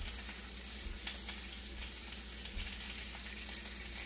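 Butter sizzles in a frying pan, a steady soft crackle with faint scattered pops throughout and no talking.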